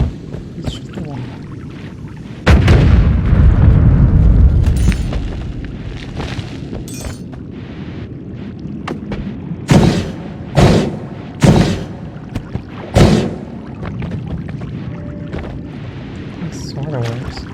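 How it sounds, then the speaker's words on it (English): Shooting and blasting a wall in Noita, a big booming blast followed by a series of sharp, loud bursts and crumbling impacts spaced irregularly over ambient game noise. "Let's shoot the wall."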